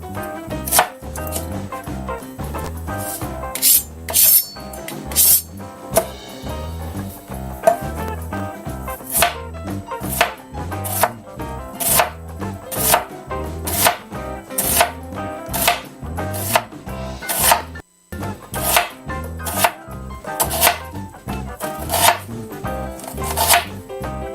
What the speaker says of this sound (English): We're going to cut up our onion into slices.